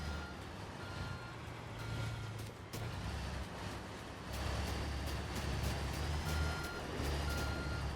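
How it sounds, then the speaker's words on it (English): A bulldozer in a construction simulation game moves aside, its reversing alarm beeping steadily over a low, continuous engine rumble that grows louder partway through, with no voices. "I'll just get the dozer kind of off to the side"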